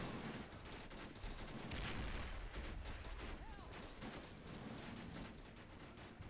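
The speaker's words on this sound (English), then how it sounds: "The mortar is like firing some close proximity rounds." A mortar lobbing close-range rounds during a World War II amphibious coastal landing in Men of War, buried in dense, continuous battle noise of rattling gunfire and muffled blasts.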